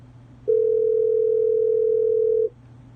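A steady telephone dial tone sounds for about two seconds between quiet stretches, loud and unbroken while a number is called back.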